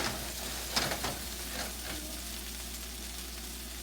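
A pork chop hits a hot pan and sizzles, a close, steady crackling fry with a few sharper pops near the start settling into an even hiss.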